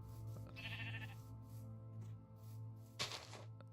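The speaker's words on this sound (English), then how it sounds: "There are sheep inside" Sheep bleat in a blocky survival video game on a small island farm with a church-like building, a wavering bleat near the start, then a brighter burst of another game noise toward the end over steady background music.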